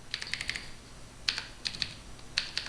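Typing on a computer keyboard: quick bursts of light clicky keystrokes, a rapid cluster at first, then scattered taps after a short pause, close and alone.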